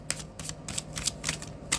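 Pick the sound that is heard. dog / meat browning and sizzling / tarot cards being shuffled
tarot cards being shuffled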